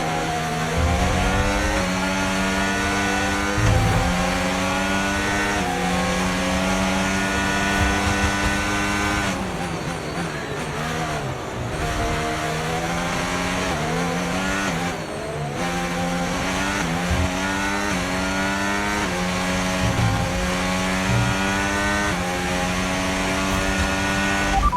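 A Formula 1 race car in the F1 25 racing game roars continuously at high revs, its engine pitch climbing and dropping through gear changes, loud and close with occasional brief lifts, and no talking over it.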